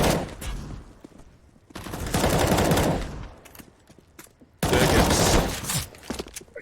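Rifle fire in Counter-Strike: Global Offensive, bursts of tapped shots in two loud dense clusters separated by quieter stretches, close and sharp.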